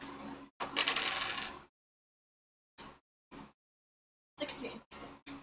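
Gold dice rattling and rolling across a table during a tabletop game, a long clattering burst followed by short separate clicks and a final run of rattles, close and clear with no talking.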